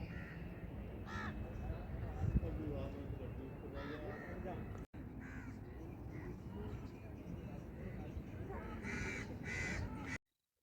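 Crows caw repeatedly across the scene at Neeldhara, Haridwar, a scenic spot of hills beside the Ganga, mixed with other bird calls over steady outdoor ambience and wind, with a voice speaking throughout.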